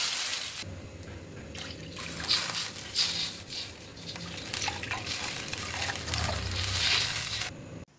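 Water, about 1.5 liters, splashes and gurgles into a pot of Indonesian sayur lodeh vegetable stew, a continuous pour with drips and clinks, fairly close.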